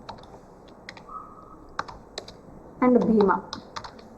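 A computer keyboard in a classroom, typed in short bursts of quick clicks with one loud flurry near the end, close by, while a teacher speaks briefly.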